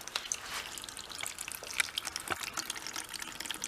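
Fuel drains from the carburetor of a junked Simplicity 1250 snow blower, splashing in a steady thin trickle with small drips, close and fairly quiet.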